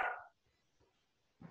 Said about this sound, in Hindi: बहुत भौंक रहा